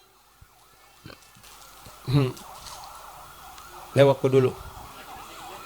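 An ambulance siren wails steadily in the background along a road, faint and distant beneath a voice that talks in short bursts over it.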